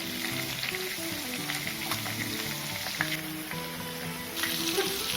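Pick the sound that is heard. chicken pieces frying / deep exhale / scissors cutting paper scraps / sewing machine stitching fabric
chicken pieces frying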